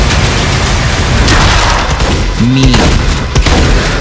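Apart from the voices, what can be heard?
weapons firing in the video game Doom: The Dark Ages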